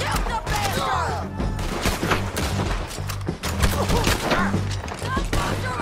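Gunfire in Red Dead Redemption 2 during a fight on a bridge: loud, dense shots crackle continuously with other chaotic combat sounds throughout.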